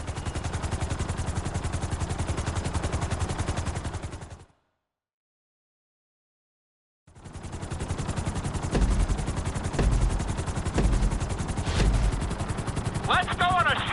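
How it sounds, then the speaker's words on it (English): A helicopter in GTA 5 makes a steady rotor chop that thrums throughout, cut by a few seconds of silence and then resuming with some heavier thuds and a radio-like voice near the end. "Let's go on a short tour of the city, and we'll see how well you handle the chopper"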